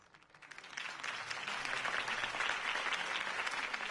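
Crowd applause following a campaign speech in a Batman video game, a dense steady clapping that swells within the first second and holds loud to the end.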